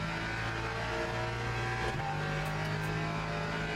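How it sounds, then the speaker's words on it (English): Ford front-engine race car in Le Mans Ultimate, its engine droning steadily and loud, the pitch stepping down around a gear change midway before holding a constant high roar with no voices. "the Ford is the most like liveliest front engine car to drive"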